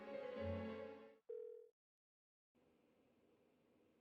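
Persona 4 Golden game phone call going unanswered: a short tonal ring or beep, a brief second tone, a pause of silence, then a faint buzzing hiss on the line, with no voices.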